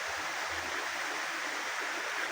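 Steady broadband rush of a river flowing alongside a rural land plot, continuous and even, fairly close, with no voices.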